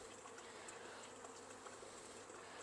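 Honey bees swarm over a hive frame where new bees are hatching, a faint, steady buzzing hum with soft fluttering wingbeats and no voices.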